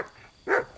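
A single short dog bark from the game Kingdom Come: Deliverance 2, moderately close, following a brief quiet stretch.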